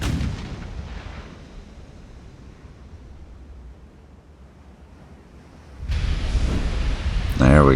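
Naval gunfire in the video game Ultimate Admiral: Dreadnoughts: a deep booming salvo rolls out at the start, a low rumbling wash lingers, then a heavy burst of shell impacts and explosions swells loud toward the end.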